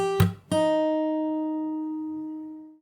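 A short fingerstyle guitar phrase: a slapped percussive hit, then a fretted note on the B string ringing out and slowly fading, close and solo.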